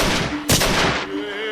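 A single sharp gunshot cracks out in the film Last Man on Earth, loud and close over a rough background rumble, followed by a fading tail.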